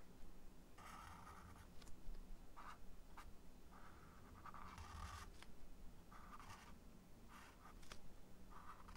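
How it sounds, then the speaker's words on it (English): Thick outline being drawn around a cartoon character, heard as soft, close scratching strokes of pen or marker in short bursts with brief pauses, no voices. "now we're just drawing that thick line all the way around the character"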